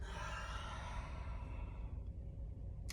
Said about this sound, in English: And exhale.